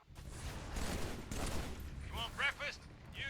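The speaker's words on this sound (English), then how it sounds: "just grenade against the wall, just like that" A grenade thrown against a wall in Halo 3 bursts amid a rattle of rapid gunfire-like crackles, close and moderately loud, followed by short ringing metallic chirps.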